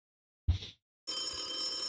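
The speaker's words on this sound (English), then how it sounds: "why don't we go ahead and take that phone call" A thump is followed by a telephone's bright electronic ring that starts abruptly and holds steady, close and clear, with no talking.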